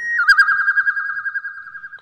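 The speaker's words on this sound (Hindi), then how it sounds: "उसके कानों में कोयल की मधुर आवाज सुनाई दी" A koel calls in an animated children's story, a clear sustained sweet whistling note with a fluttering warble, close and alone with no talk over it.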